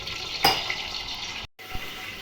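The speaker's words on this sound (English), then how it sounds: "She's just about to wash the rice" Water sloshing and pouring as rice is washed for biryani: a steady watery rush with a sharper splash near the start, a brief silent break, then more swishing, close and without talk.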